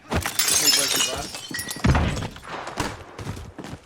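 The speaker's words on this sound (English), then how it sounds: "Can you break the glass?" Glass shatters loudly in a first-person shooter game, a sharp crash with scattering shards lasting several seconds amid game noise, with players' voices faintly in the background.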